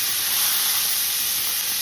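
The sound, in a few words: pancetta browning and sizzling in a pan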